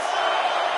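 A capacity arena crowd roaring and cheering at a WWE 2K25 wrestling match, a dense, loud, continuous wall of noise from many voices.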